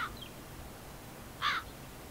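A crow caws twice, one faint call at the start and a louder, clearer caw a moment later, set against quiet outdoor background noise.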